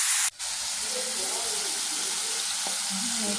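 Mushrooms tipped into hot oil in a pan give a loud, steady sizzle and hiss, with a brief dip at the start and faint stirring clinks beneath the continuous frying.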